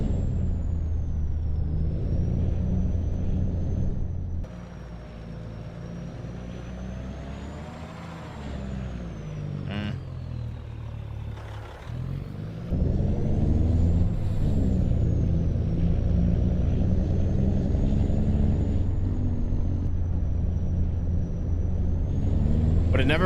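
A truck in Farming Simulator 25 on a test drive rumbles with a low engine drone, shifting load and an air-brake hiss partway through, then a louder steady run, with a faint high whine throughout.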